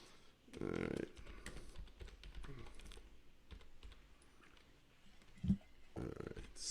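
Close computer keyboard typing clatters in irregular bursts of quick keystrokes, with a few short vocal sounds and breaths mixed in.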